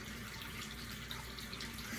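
Warm tap water runs into a bathroom sink while the face is rinsed, a steady, soft hiss of flowing water with faint splashes, close and unbroken, with no talk.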